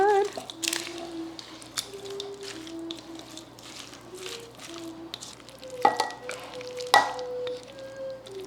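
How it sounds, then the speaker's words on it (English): Salad being tossed together with its dressing for a summer side dish, giving soft wet stirring and squishing noises with a few sharper clinks, under background music. "now mix all that together with your dressing"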